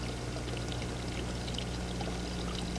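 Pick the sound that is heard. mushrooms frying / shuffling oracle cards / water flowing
water flowing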